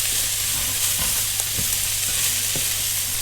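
Red onion and garlic fry in a pan, a loud, steady hiss of sizzling with occasional scrapes and taps as the pieces are stirred and kept moving, close by and without talk.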